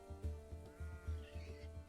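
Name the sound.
baby goats bleating in video game Clanfolk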